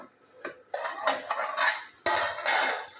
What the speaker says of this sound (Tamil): மூடி போட்டுக்கலாம்.